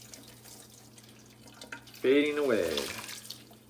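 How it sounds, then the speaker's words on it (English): Hot water poured over cinnamon rolls, a brief pouring burst with rising tone heard near the mic, followed by a person talking over it. "we're gonna pour some hot water on this"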